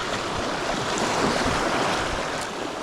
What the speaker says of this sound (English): There's a bit of a swell coming towards me here